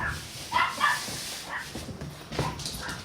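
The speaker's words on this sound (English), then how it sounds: "my dogs are going crazy again" Several dogs barking and yipping in short bursts, moderately close, with some whimpering between barks and no talk over them.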